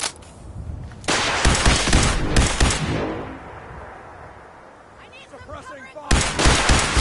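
Gunfire in Fallout 4 during an Institute mission: a loud burst of shots, a pause with a decaying tail, then another loud burst at the end.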